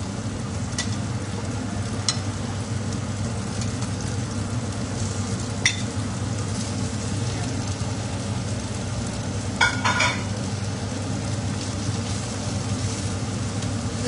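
Sticky sweet chili pork browning in a large pan, giving a steady continuous sizzle and frying hiss close by, with a few faint clinks of stirring and no talk.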